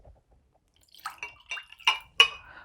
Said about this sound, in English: And then he poured 4 big jars of water all over the altar, and I'm going to do that